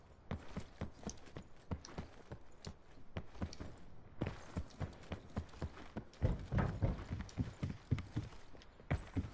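Loud footsteps in a video game match sound as a steady run of hard, clopping thuds, close and prominent, continuing throughout with no talk over them.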